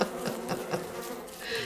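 Bees in the Don't Starve video game buzz in a steady, close drone with slight pulsing swells, heard alone without speech.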